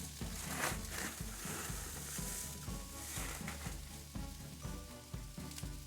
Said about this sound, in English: And get a sizzle going.